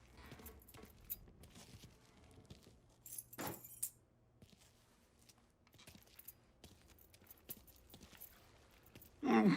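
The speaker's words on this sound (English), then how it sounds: "Lincoln, pick up the keys." Keys picked up and jangling in the Mafia 3 video game: a brief metallic rattle of a key ring, quiet and close among sparse game ambience and faint clicks.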